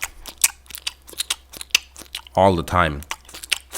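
A voice mimics a big fat guy's loud, open-mouthed gum chewing, a short burst of wet smacking and crunching noises set between stretches of casual talk.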